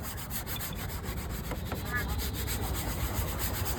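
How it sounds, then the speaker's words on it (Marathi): Brush scrubbing the body of a Maruti Ertiga car, a steady close bristly rubbing that runs continuously without a break and carries no speech. "हे ब्रशने घासतोय"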